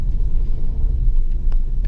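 A car pulling away slowly as the brake and clutch are eased off gives a steady low rumble of engine and road noise, close and continuous, with no talking.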